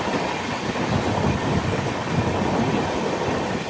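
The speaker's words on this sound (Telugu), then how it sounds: "మనల్ని పుల్ చేసేది డీజిల్ లోకోమోటివ్." A train hauled by a diesel locomotive rumbles steadily near the Pamban sea bridge, a loud continuous roar of wheels and carriages with no talking.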